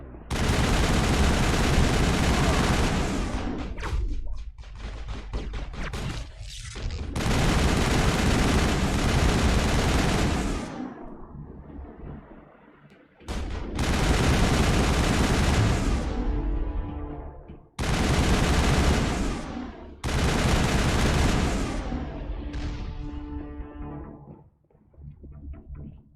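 Heavy automatic turret gunfire from the Mass Effect video game, long loud bursts of rapid shots separated by short pauses, with echoing impacts and tails between bursts.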